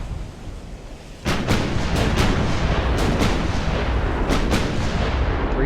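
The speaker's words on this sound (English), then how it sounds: "There's heavy guns that are out of sight engaging us because we've got greater visibility." Heavy naval guns boom repeatedly in Ultimate Admiral: Dreadnoughts, a burst of loud, sharp cracks after a quiet start and then several more spaced shots over a continuous rumbling battle din.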